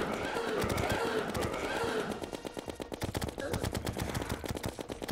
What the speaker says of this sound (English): See how much the minigun damages him.